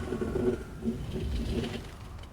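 A crow-like bird in the video game Dark Souls Remastered gives soft, low cooing calls, a few repeated phrases at moderate distance over a quiet, hollow ambient background.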